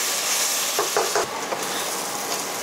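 Bitter gourd pieces fry in oil with a steady close sizzle, broken by a few soft stirring scrapes, with no talk.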